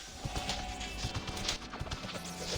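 Horse hooves in the Ragnarok Origin video game clop at a brisk, even gallop, fairly close and moderately loud over faint background game noise.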